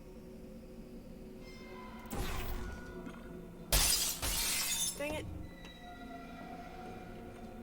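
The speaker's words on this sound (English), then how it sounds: "Didn't mean to break the glass." Glass shattering in the video game Portal 2, two sharp bursts of breaking glass with crunching debris over an ambient mechanical hum, followed by a brief spoken remark.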